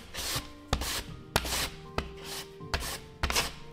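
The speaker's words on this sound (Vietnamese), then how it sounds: "Sau đó thì mình sẽ bào nhỏ ra." Firm green mango is shredded on a grater into thin strands, a series of about six close, rasping strokes in an even back-and-forth rhythm, each ending in a light knock.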